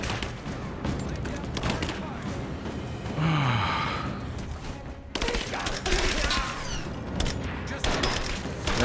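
Gunfire in a Rise of the Tomb Raider witch-temple level, bursts of shots scattered across the stretch amid other game noises, fairly loud throughout.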